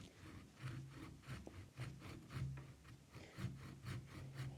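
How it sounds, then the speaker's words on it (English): A hand saw cutting through a bonsai trunk in steady back-and-forth strokes, a rasping woody rhythm roughly every half second, close and continuous with no talk. "But I'm going to try and get the bulk of it off now with the saw."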